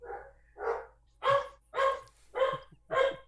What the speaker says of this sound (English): Dr. Sylvia Earle's dogs, everybody.